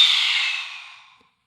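A single long lion's breath yoga exhalation, a forceful, breathy rush of air that starts strong and steadily fades out over about a second, close and alone.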